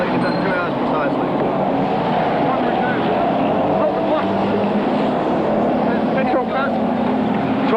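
A racing motorcycle engine fires up during a pit stop at a 1980 six-hour endurance race, a steady loud mechanical drone running throughout, with a commentator talking over it.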